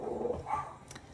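A dog barks indoors, a couple of sharp barks at moderate distance, fairly loud with no speech over them.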